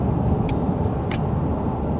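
A vehicle on a Central Texas road, heard from inside the cabin as a steady, fairly loud low rumble of engine and road noise, with a couple of faint short clicks on top.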